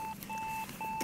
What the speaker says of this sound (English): Someone's DECT phone's going off.